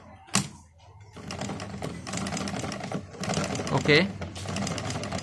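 A domestic sewing machine, just repaired after its needle bar stuck and would not move up and down, runs in quick steady stitching bursts through cloth, close and clear, with someone talking over it.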